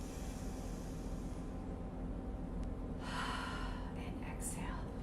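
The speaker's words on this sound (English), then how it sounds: "I'm gonna close my eyes, I'm gonna inhale" A deep, audible inhale through the nose rises to a breathy rush during a mat pilates breathing exercise, faint and close, with a quiet background hum.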